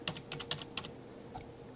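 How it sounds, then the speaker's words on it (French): A PIN code is typed on a computer keyboard: a quick run of crisp, close key clicks in uneven rhythm, then a pause and one or two softer final taps. "Je le saisis sur le clavier de mon ordinateur"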